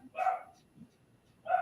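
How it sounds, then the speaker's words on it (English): A dog at home barking excitedly, two sharp close barks separated by a brief pause. "you guys hear my dog going ballistic?"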